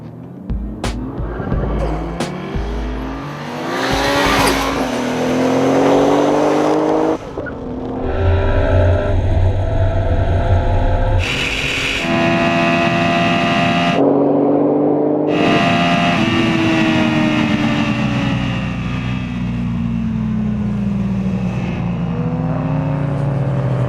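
Car at speed on an airstrip runway near 178, engine climbing repeatedly through gear changes with a steady loud drone and rising pitch, close and sustained.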